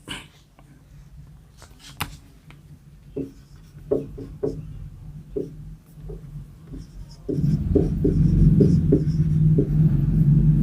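A teacher writes on the board during a lesson, with scattered taps and scratchy strokes at first and then steadier rubbing and scraping over a louder room rumble; no speech is heard.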